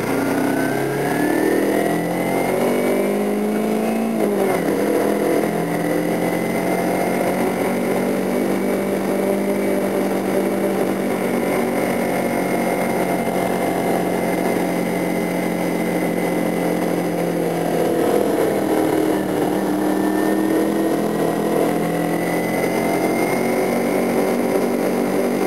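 A motorcycle engine running steadily while the rider tries to ride smoothly without stalling, a continuous close drone whose pitch rises and dips gently, loud throughout with no talk.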